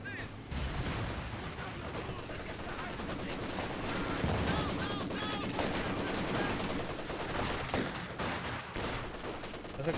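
Dense, continuous gunfire from a Company of Heroes 2 battle, with sniper shots and MG-34 machine-gun bursts crackling over ten seconds, loud and layered with explosions and a commentator's voice.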